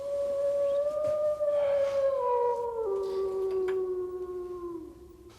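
A wolf howls in one long, loud sustained note that slowly slides downward in pitch over several seconds, up close with no talking.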